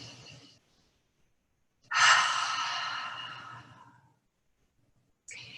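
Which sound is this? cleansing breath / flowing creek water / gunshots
cleansing breath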